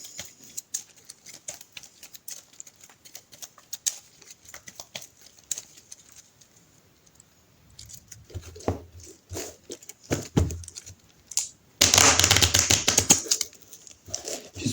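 A deck of game cards is shuffled on a table, with light crisp riffles and taps early on, a few louder handling bursts, then a dense loud riffle near the end, with no voices.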